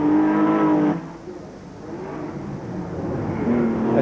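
Race cars circuit the track during the 1992 Australian Grand Prix weekend, a loud engine tone holding steady before dropping away into a broad rumble of more cars passing at mid distance, with a fresh whine rising near the end.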